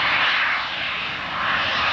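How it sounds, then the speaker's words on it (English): A small jet airplane's engine spools up at the 1993 Chatham, Ontario Kinsmen Airshow, a loud, steady roaring whine that swells and dips slightly while the aircraft holds in position on the runway. "you'll hear spooling up. A nice little jet airplane that's going to take off and hold in position"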